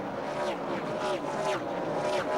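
NASCAR race cars at the 2003 Snap-On Tools Jelly Belly 200 roar down the straightaway, several loud passes swelling and fading in a repeating rhythm, with a voice faintly underneath.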